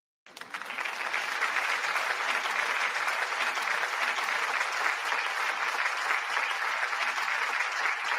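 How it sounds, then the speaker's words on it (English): A round of applause sound effect on a sports podcast starts abruptly and runs as a dense, even burst of many hands clapping, loud and sustained for about eight seconds with no talk over it. "y'all give Nice Phil Q7T a round of applause for becoming the moderator of the Simply Ball Dropping podcast"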